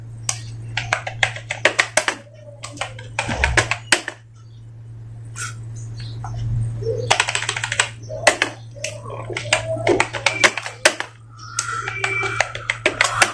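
Hindi text being typed in Mangal Inscript layout on a computer keyboard: brisk bursts of close key clicks with short pauses, a steady low hum underneath.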